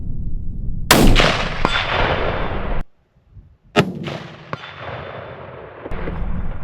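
A rifle set up for coyote hunting fires a 58-grain round outdoors at a 200-yard target: two sharp, loud shots a few seconds apart, each with a long rolling echo, the second after a brief silent pause.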